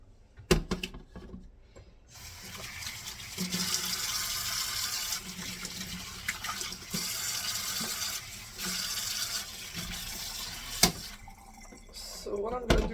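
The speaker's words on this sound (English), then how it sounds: "as I wash the tomatoes" Tap water runs steadily into a sink as garden tomatoes are washed, with occasional clunks and splashes as the fruit is handled.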